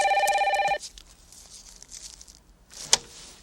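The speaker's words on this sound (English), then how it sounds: "The phone rings and it's Laurie." A telephone bell rings in a short burst of bright, trilling tones at the start, then cuts off, followed by quiet shuffling and a single sharp clack near the end.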